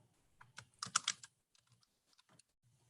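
Typing on a computer keyboard while entering labels into a spreadsheet, with a quick burst of clustered keystrokes followed by a few scattered, sparse taps, close and fairly quiet.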